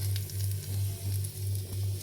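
Green chillies fry in a pan, a close, steady sizzle with soft crackling and a repeating low pulse from the stove, heard alone without talk.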